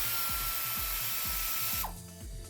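A hand ratchet backs out a 13mm screw on an Alfa Romeo 1.4 engine during a timing belt job. Rapid, evenly spaced metallic clicks sound up close, then stop abruptly near the end.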